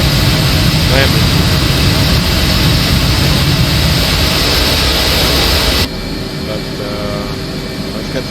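An F/A-18C jet engine idles while the aircraft taxis in a flight simulator game, a loud, constant roaring whine that drops slightly in level partway through and then holds steady.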